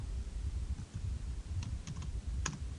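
Quiet clicks of computer keys as someone types a formula, with a low background rumble and a few sharper taps near the end.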